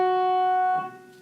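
One F sharp keyboard note sounds bright and steady, held briefly before being released and tapering off, close and isolated with no voices.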